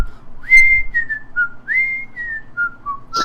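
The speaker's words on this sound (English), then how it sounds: "She shoves her hands into her pockets and begins whistling again as she continues." A woman whistles a tune on a D&D game night, clear melodic phrases of rising and held notes in two runs, close and alone, with no talk.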